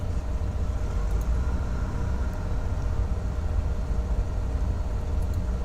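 The right engine of a Baron 58 twin piston aircraft in Flight Simulator X starts and runs alongside the other, making a constant, dense engine roar with deep rumble throughout.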